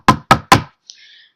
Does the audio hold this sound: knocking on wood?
yes